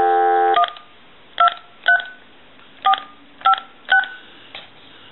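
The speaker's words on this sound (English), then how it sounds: "We're going to dial our numbers" Keypad tones from an AT&T 5500 cordless telephone: a burst of dial tone, then six short, separate dialing beeps at uneven intervals, clear and close with no voices.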